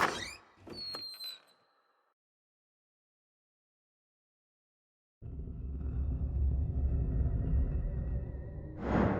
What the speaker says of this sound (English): Damnation! The door has closed.